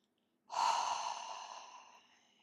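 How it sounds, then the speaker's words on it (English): A single long exhale, emptied out of the lungs during a guided breathing exercise, starts abruptly and trails off slowly over a couple of seconds, close and breathy against near silence. "breathe everything out of your lungs right now"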